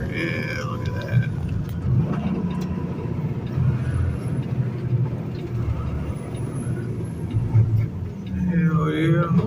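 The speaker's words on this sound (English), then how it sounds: "there's another sweet ass truck coming out there" A truck rolls past on a road near a truck wash, a steady close engine rumble with a hiss like an air brake, while a voice talks over it.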